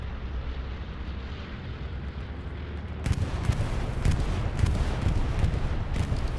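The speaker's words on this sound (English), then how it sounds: "Refuze bombing run coming in." Bombing run in the game Hell Let Loose on the Utah map: a steady rumble of distant aircraft and battle, then a sudden jump to a loud, dense barrage of overlapping explosions and crackling blasts that continues to the end.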